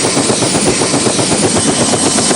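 Helicopter packed with five passengers bound for Port-au-Prince after the Haiti earthquake, heard from inside the cabin as a loud, steady rotor and engine roar with a dense rhythmic beat throughout.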